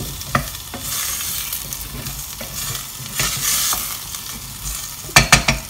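Parsnips, onion and nutmeg sizzle steadily in a hot pan while a utensil stirs them, with a constant close frying hiss and a few sharp scraping knocks near the end, and no talk.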